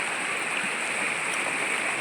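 Cold, clear water flowing out of a mountain cave, a constant close rushing wash with no breaks.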